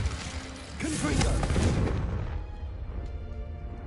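The Confringo explosive spell from the Hogwarts Legacy video game goes off in a loud booming blast that swells and then rolls away into a fading rumble.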